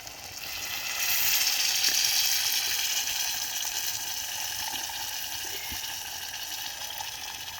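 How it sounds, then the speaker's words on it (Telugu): Tamarind juice pours into a clay pot of egg curry cooking over a wood fire, a steady broad wash of liquid and sizzle that swells after the first second and holds level, with no talking. "ఇప్పుడు ఇదిగోండి ఈ చింతపండు పులుసు వేసేస్తున్నానండి"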